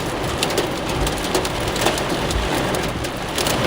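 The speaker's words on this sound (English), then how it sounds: "Getting some hail right now." During a severe storm in southeast Nebraska, hail and rain pelt a surface nearby in a loud, dense, continuous clatter with scattered sharper hits.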